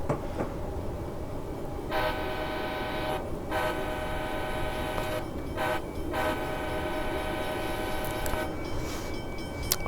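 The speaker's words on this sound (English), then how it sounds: "Horn has that abrupt ending for a short horn" Short horn blasts from an F40PHL-2 diesel locomotive in a Miami commuter rail train simulator, several loud, abrupt-ending tones sounding over a constant engine rumble, with brief gaps between blasts.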